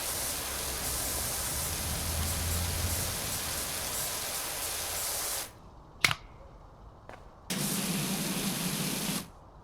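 A pressure washer sprays in PowerWash Simulator 2 with a steady hissing rush. It cuts off briefly, a sharp click follows, then the spray starts again.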